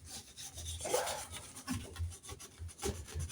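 A wooden knife handle on a hidden tang knife is sanded with 1000 grit sandpaper in close, rhythmic rasping strokes, several back-and-forth passes with slight pauses between.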